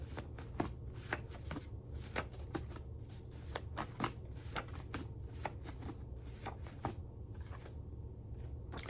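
Playing cards shuffled by hand during a spiritual card reading: quiet, rapid riffles and snaps repeating in close, irregular bursts.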